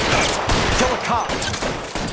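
Gunfire in a shootout with cops in L.A. Noire, a rapid volley of close, loud shots layered with short shouted voices, sustained throughout the brief stretch.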